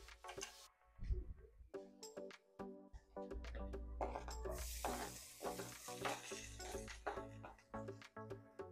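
Garlic and onion hit a hot pan for a Filipino bangus Bicol express, giving a close sizzle and frying hiss with scraping stirs and clinks of a utensil against the pan.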